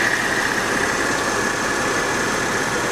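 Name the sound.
Porsche 911 Carrera engine idling quietly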